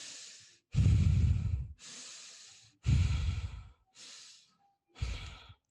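Deep, continuous breathing in and out during a guided relaxation, with long, close, loud breaths that alternate between airy inhales and heavier, rushing exhales in a steady rhythm with no talking.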